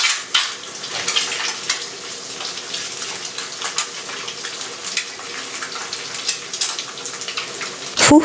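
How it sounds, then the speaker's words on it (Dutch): Two eggs fry in a pan with a loud, continuous crackling sizzle and spitting bursts close by, and a clatter of the pan at the end. "Bak daarna 2 eieren"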